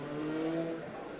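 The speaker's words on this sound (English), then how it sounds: "It's a car passing outside my house." A car passes outside a house as a brief, steady engine drone at moderate distance, holding level for about a second with a faint tonal whine.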